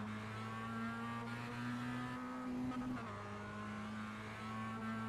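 A Mazda race car runs down Conroy Straight during a club race day, its engine droning steadily and loud with a sustained tone that dips in pitch briefly midway, then holds again.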